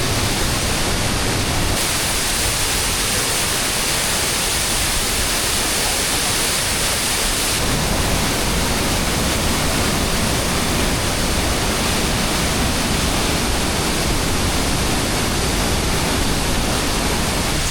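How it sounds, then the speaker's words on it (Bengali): Kanchenjunga Falls in West Sikkim roars in monsoon flood, a dense, loud, unbroken rush of plunging water heard up close that swamps everything else for the whole stretch. "এই হচ্ছে কাঞ্চনজঙ্ঘা ফলস।"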